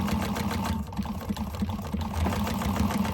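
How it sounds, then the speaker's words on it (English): Sewing machine running steadily while back stitching over a stiff, heavy pocket on a candy bag, a close, continuous rhythmic whir with fast mechanical ticking. "I'm going to back stitch over this pocket beginning and end just to get that extra security."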